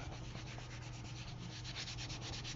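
A paper doily is rubbed from the back to stick it to a card, a continuous soft dry rubbing with a quick repeating stroke rhythm, close and quiet.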